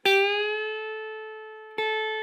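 Two guitar notes sound in unison, a string bent up in pitch to match a plain 5th-fret note on the 1st string. A clean, bright plucked tone rings and decays, then is struck again near the end, with no talk.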